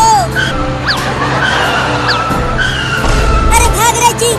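A three-wheeler tempo driven erratically, with tire skids and engine strain rising and falling close by, a harsh scrape near the end, while people talk over it.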